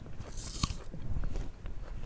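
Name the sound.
biting into a crunchy apple slice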